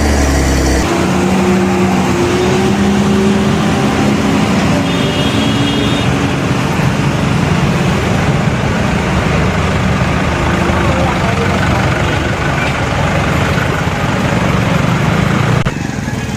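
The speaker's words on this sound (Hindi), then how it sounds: "वो हाईवा चल रहा है, इसी के कारण जाम लगा रहा है।" A Hyva dump truck runs in a highway traffic jam, a steady loud engine drone with rumbling road noise throughout, constant and close, with other vehicles idling and moving around it.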